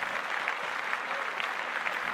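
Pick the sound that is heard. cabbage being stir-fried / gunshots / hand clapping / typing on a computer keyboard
hand clapping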